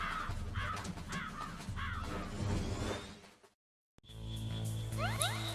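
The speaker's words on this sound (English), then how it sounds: "Yes, the raven on my head. It thirsts for his blood." A raven in the Metal Gear Solid video game caws in a run of harsh calls over game sounds, then after a brief silence gives a few more distinct caws.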